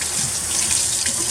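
Steady rushing stream of water from a tap rinsing Floetrol cell-bed dye off a disc golf disc, loud and continuous at close range without a break.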